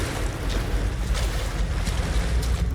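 Water sloshes and splashes as a character wades through an oddly calm pool in Tomb Raider (2013), a steady, close, noisy wash with no voices.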